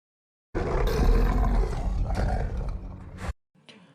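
The lycan Lucian roars while transforming into a wolf, a loud, close, guttural beast roar lasting nearly three seconds, cut off abruptly and followed by a fainter short growl.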